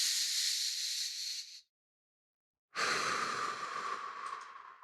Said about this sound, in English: Deep belly breath.